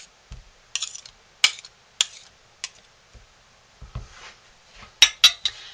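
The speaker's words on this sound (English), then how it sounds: "let's get our spoon clean." A metal spoon clinks and taps against a soap container while being cleaned off during homemade goat's milk soap making, several sharp, close clicks scattered irregularly with quiet gaps between.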